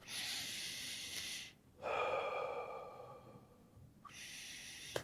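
Deep breaths taken slowly, a long airy inhale then a fuller exhale after a short pause, close and quiet, followed by another breath.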